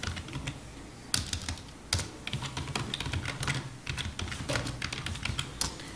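Keys clatter on a computer keyboard while Java code is written, uneven bursts of close typing with a few sharper louder strokes and brief pauses.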